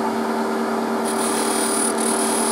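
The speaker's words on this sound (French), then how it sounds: "Léger ponçage." A Tripoli compound polishing wheel spinning at 2000 rpm for light polishing, giving a loud, steady whirring hum with a constant gritty rubbing hiss throughout.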